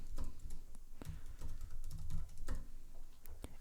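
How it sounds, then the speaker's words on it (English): Fingers type a new password on a computer keyboard in quick bursts of clattering keystrokes with short pauses between groups, close and fairly quiet, no talking. "So I'm just going to type in my new password"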